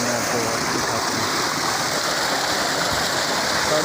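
Water gushing at full pressure from a 5.5 inch PVC pipe on a solar tubewell driven by a 10 HP motor, heard as a loud, steady, close rush of broadband splashing with no breaks.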